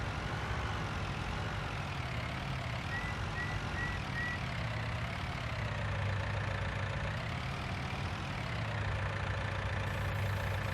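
In Farming Simulator 19, a tractor engine idles steadily for about eleven seconds, a low continuous rumble with a slight rise and fall in pitch, heard alone and at moderate loudness.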